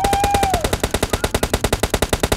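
Rapid automatic gunfire in PUBG on the Sanhok map, a loud, steady, evenly spaced burst of about a dozen shots per second, with a brief whistling tone at the start.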